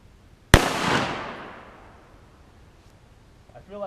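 A full metal jacket round fires into wood outdoors, one sharp loud crack followed by a long decaying echo rolling away across the distance, then quiet.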